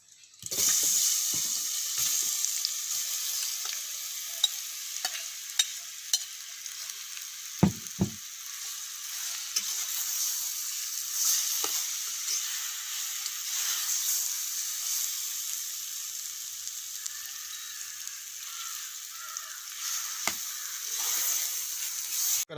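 Banana pieces sizzle and fry steadily in a hot pan, a continuous close crackle with occasional clicks and utensil taps, no talking.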